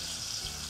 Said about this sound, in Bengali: আমি দেবো একটু জল।